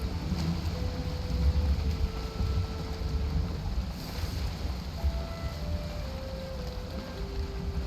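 A sailing boat in the Valheim game pushes through open water into the wind, a steady rush of waves and gusting wind with faint tonal creaks, continuous and fairly loud, no voices.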